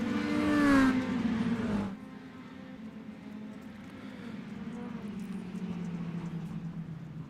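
Stock cars in an RPES Extreme Outlaw Stock Tour race roar loudly past at the start, then fade to a steadier distant engine drone from the pack.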